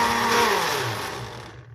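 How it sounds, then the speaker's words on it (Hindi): A grinder blends eggs, milk and bread for an iftar dessert, a loud steady whir that holds for under two seconds, its pitch sliding down as the motor winds down toward the end. "तो ये अब मैं इसमें डाल के तो फिर दोबारा से इसको ग्राइंड करने लगी हूँ।"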